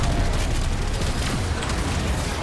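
Spaceship turrets firing in the Warframe Railjack game, a dense, continuous barrage of rapid blasts and booming bursts, loud and unbroken throughout.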